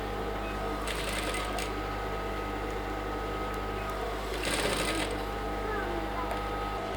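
A sewing machine stitches lining into an Aso Oke cap with matching thread, a steady close mechanical whir with brief louder bursts of fast stitching over constant background hum.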